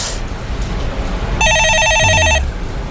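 A telephone rings once on a stock-market call-in show: a single bright, electronic trilling burst of about a second over low studio background, with no speech.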